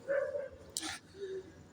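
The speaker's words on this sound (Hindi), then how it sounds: "ये कुत्ते रात में भौंकते रहते हैं।" Dogs bark and whine at night, a couple of short tonal yelps separated by a brief noisy burst, fairly faint and somewhat distant.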